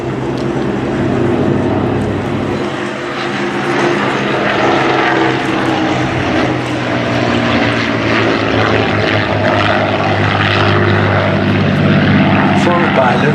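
Vintage propeller aircraft flying at the Duxford air show with fixed-pitch propellers, a loud steady engine drone and propeller roar holding throughout, a voice talking over it.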